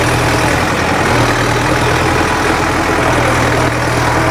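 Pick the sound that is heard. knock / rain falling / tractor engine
tractor engine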